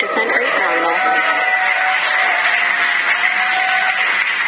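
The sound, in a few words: crowd applauding and cheering at SpaceX Dragon capsule return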